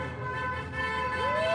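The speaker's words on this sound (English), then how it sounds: "here comes some freedom honking" Car horns honk at an outdoor freedom rally downtown near Peterborough City Hall, a steady blaring tone with a rising horn note near the end, heard over a busy street hum.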